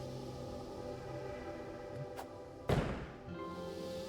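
A single sharp bomb blast thumps in Bombun, a Bomberman-inspired platform game, following a small tap, over steady game music.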